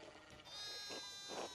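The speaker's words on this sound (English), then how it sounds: "one of the fences fell down and the sheep started hopping it" Sheep bleat faintly, a few soft cries overlapping, within the ambient soundscape of the medieval video game Pentiment, with a steady tonal background hum and no talking.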